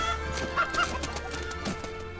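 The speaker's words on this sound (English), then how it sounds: "Yeah, poor chicken." Chicken clucking in the video game Fable 3, a few short clucks over a steady droning game soundtrack with no talk.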